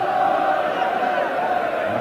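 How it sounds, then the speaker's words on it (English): Packed football crowd at a 1984 FA Cup tie between Brighton & Hove Albion and Liverpool, a steady, dense roar of massed voices with cheering, continuous and loud throughout with no break. "the crowd at the moment enjoying every moment of it"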